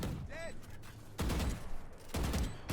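Bursts of rapid automatic gunfire ring out in a competitive first-person shooter as a player pre-fires an angle, two loud sustained volleys separated by a brief pause, with a faint chirp of game audio before them.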